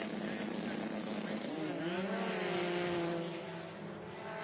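Arctic Cat 998 snowmobiles on stock chassis race down a snow drag strip, a loud, rising engine howl with a pitch sweep mid-run as the sleds accelerate, continuous and close before easing slightly.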